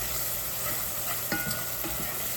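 Green peas cook in a pot with Haitian epis and Maggi seasoning, giving off a faint, steady sizzle broken by a few soft stirring scrapes.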